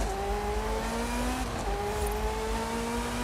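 A Ferrari F40 with an upgraded 10-speed gearbox racing in Forza Horizon 5, its engine droning steadily and close, with a gear change partway through and the pitch climbing again afterward.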